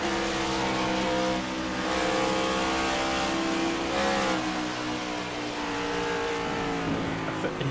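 An on-board race car engine in iRacing roars steadily at high revs, with slight rises and dips in pitch and a hint of tire squeal, continuous and loud throughout.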